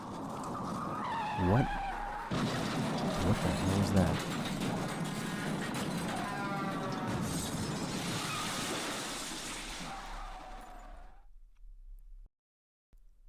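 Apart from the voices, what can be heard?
car tires screeching followed by a thud and crash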